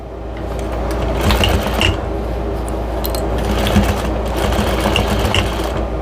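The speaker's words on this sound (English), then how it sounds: "I'm just going to trace back over the same stitches that I just did" A sewing machine runs steadily, retracing a line of stitches it just sewed on a chicken-basket drying mat, with a continuous motor hum and rapid needle chatter throughout and slight swells in intensity.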